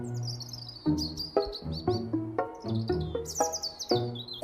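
A small bird gives a run of bright, close chirps and tweets in quick irregular bursts, set against a soft musical background.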